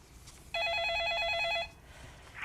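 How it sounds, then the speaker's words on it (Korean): Electronic telephone ring for an incoming call during a phone-in stock consultation show, one steady warbling burst lasting about a second, clear and alone over quiet background. "그 사이에 걸려온 전화 이어서 확인을 해보겠습니다"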